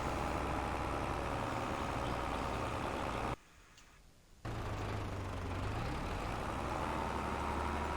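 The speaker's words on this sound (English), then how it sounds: "as we witness this wonderful tractor pulling exercise here" A tractor engine in Farming Simulator 22 labours under heavy load while pulling, a steady loud drone that drops out abruptly for about a second before resuming.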